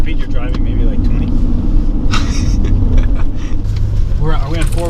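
A vehicle in four-wheel drive rolls slowly along a dirt road at about 20, its steady low engine rumble and road noise continuous throughout, with people talking over it inside the cab.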